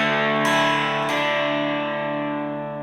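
A single electric guitar chord is strummed from the D string down, ringing bright and sustained with a second strum about half a second later, close and alone.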